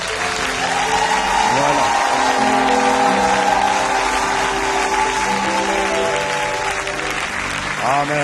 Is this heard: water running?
no